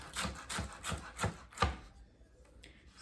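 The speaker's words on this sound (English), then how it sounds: "Same idea with the carrot. Keep your knife on the board and just slide down." A knife slices through a carrot on a cutting board, five crisp chops in an even rhythm close by, then a quiet pause before a sharp knock at the end.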